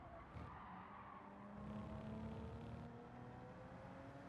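A race car in Gran Turismo 7 slides as its rear end steps out, with a steady engine drone and a sustained tire squeal rising and easing over a few seconds, loud and continuous with no talk.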